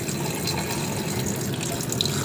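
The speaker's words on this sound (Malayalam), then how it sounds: "നമുക്കിനി ഇത് ഇന്നോട് നല്ലോണം വൃത്തിയാക്കി കഴുകിയെടുക്കാം" Tap water runs steadily into a sink while fish is washed clean, a continuous close splashing hiss with no voices, for a kili meen (fish) curry and fry.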